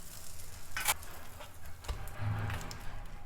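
Toast pressed down in a hot pan over the highest heat gives off a soft, steady sizzle, with a few faint scrapes and taps.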